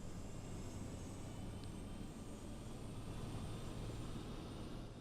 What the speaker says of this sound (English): you even hear the APU starting